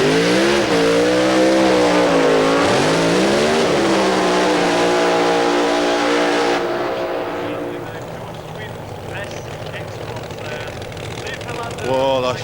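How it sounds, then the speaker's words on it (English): Two alcohol-burning funny cars at Santa Pod drag strip roar loudly after their burnouts, engines revving with sweeping pitch before cutting to a lower rumble, with a brief revving burst at the end. "as these two alcohol-burning funny cars come out, having completed their burnouts"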